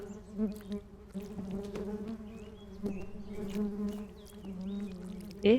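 Bees buzzing in the video game Genital Jousting, a steady insect drone with fluttering wingbeat tones rising and falling, fairly close and continuous, with a brief louder burst at the end.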